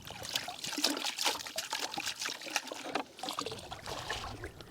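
Water trickling and splashing as mud is rinsed out of a sediment sample held in a mesh bag, a steady close wash with small pouring surges, alone.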